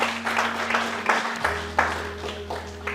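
A church congregation applauding, steady dense clapping close and loud, layered over a constant low hum from the sound system.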